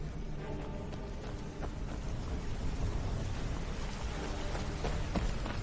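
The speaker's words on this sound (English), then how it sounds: "There's a lightning storm outside." Steady broadband rain hiss from a thunderstorm in the video game Skyrim, constant and fairly loud throughout with faint low rumbles beneath, no voices.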